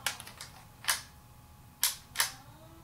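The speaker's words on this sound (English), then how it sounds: "just open the shutter to make sure it's working. I see the red light. Now I'm gonna do bulb mode" Shutter of a Holga 120N medium-format camera worked in bulb and normal modes: several crisp mechanical clicks, with a few small ticks early on, then two spaced pairs of sharper snaps, close and clear.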